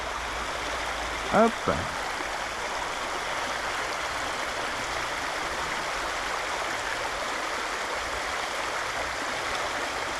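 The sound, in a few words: flowing river stream at the water's edge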